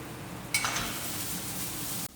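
Ginger, chilies, mushrooms, carrots and corn frying in a pan, with a soft, steady sizzle that starts abruptly and runs evenly for about a second and a half before cutting off.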